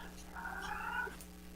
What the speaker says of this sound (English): I've been around cats or had cats that make those sounds